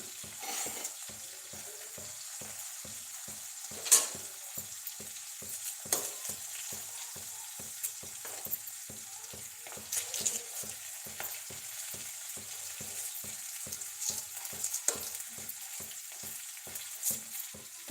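Green chillies frying in a pan, a steady close sizzle and crackle carrying on throughout, with repeated stirring clatter and a few louder knocks against the pan, and no voices.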